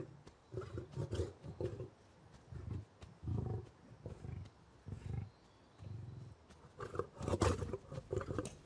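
An Atlas lioness roars at the Paris zoo in a series of deep, grunting bursts, rising into a fuller run of roars near the end, heard at a moderate distance with no voices.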